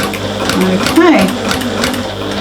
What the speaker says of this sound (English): I'll do a little back stitch